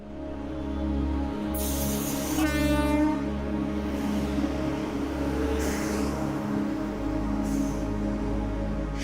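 A train at Vadnagar railway station rumbles steadily. A long horn blast sounds from near to mid distance over the low, continuous rolling of the wagons.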